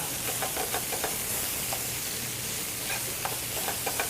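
Sausage sizzles as it browns in a pan, a steady bright frying hiss with scattered crackles and pops and the occasional scrape of stirring, close and even throughout.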